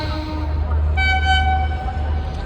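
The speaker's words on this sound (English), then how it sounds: "So train is coming from there" A train approaching on an Indian Railways line, with a steady low rumble and a clear horn tone sounding from about one second in, heard outdoors at moderate distance.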